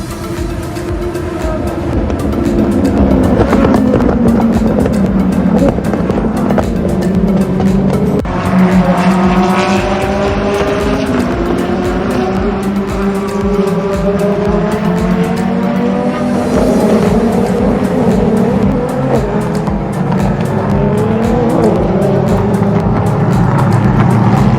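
Race cars roaring off at an Asian Le Mans Series race start in 2021, loud and continuous, engines rising and shifting through gears as the pack passes close, with layered overlapping engine tones.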